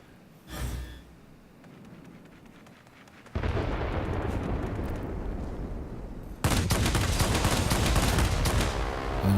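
Rapid bursts of aircraft cannon fire from an Ta 183 jet fighter in a flight combat game, dense and loud, swelling in two steps into a sustained roaring barrage.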